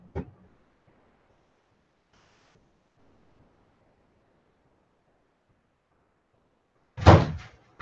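A door near a recycle bin opens or closes with a sharp, loud thump near the end, after a brief knock at the start and a long quiet stretch between.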